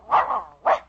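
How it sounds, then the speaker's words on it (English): A dog barks close by in two short, separate bursts. It is Gainsey, billed as the famous talking dog, and the bursts come on cue in a dog food commercial. "Gainsey, the famous talking dog, always says"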